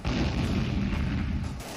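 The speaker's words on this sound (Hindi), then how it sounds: "इस दौरान LOC पर हिंदुस्तान की तोपें गरजने लगेंगी।" Deep, rumbling booms of artillery guns firing roll continuously, heavy low-end thunder that swells and fades without any talking.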